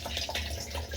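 Running water from a tap pours steadily over an ENJO fiber cloth being rinsed in a bathroom sink, a close, continuous splashing rush with no talking.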